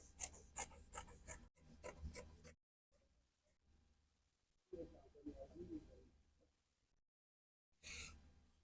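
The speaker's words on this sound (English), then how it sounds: "Then you're going to be using this to cut the fabric" Scissors cutting fabric for a milkmaid dress, a fast burst of sharp, close snips followed by quiet, then a softer rustling stretch of cloth handling and one final brief scrape.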